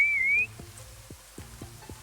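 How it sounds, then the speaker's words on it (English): A single short whistle rises and bends at the start, close and clear, then gives way to a few soft knocks and thumps in a quiet room. "I whistled."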